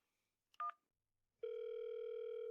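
A telephone call left unanswered, with a brief electronic blip followed by a steady, clean ringback tone that starts and holds on.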